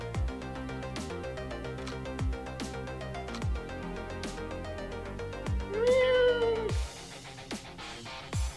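Video game music with a steady beat plays while a cat meows clearly in the game, one drawn-out meow rising above the tune near the end.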